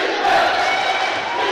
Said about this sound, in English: Defence is the shout from the crowd.